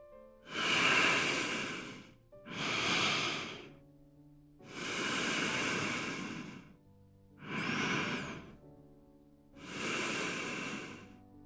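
Zayne, a sleeping character in a narrated video game scene, breathes steadily: five long, slow, airy breaths, close and clear, each drawn out over about two seconds with short pauses between, and no talk over them.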